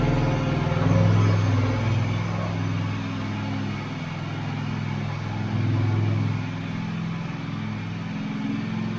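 A Scag V-Ride stand-on mower's engine drones steadily as the machine drives forward up a ramp, a loud, close motor hum that swells briefly twice under load, with no voices over it.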